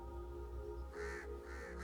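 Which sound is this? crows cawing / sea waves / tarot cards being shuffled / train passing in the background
crows cawing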